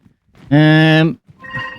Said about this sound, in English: Every time I go streaming or recording, the phone goes off